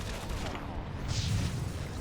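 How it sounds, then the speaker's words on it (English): A harvester's attack explosion in the Mass Effect 3 video game, a sustained rumbling boom with dense low-end roar lasting the whole moment, loud and continuous rather than a single sharp hit. "It's just an instant explosion, which is a bit irritating"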